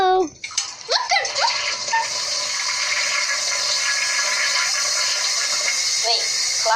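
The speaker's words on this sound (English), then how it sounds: "Let's just flush this already" A cartoon toilet flushes in a loud continuous rush of swirling water after a few quick comic slide-whistle effects, the gush holding steady for several seconds.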